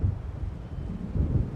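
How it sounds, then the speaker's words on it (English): Low, rolling thunder from an approaching storm in the video game Alan Wake, a steady rumble sustained for the whole moment with swelling peaks, no voices. "It seems there's a storm coming."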